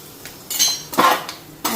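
A utensil scrapes and clinks against a pan while cumin powder, turmeric and salt lightly fry, giving a few short bursts of stirring, close and moderately loud.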